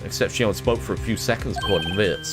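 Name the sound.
phone ringtone in video game Phoenix Wright: Ace Attorney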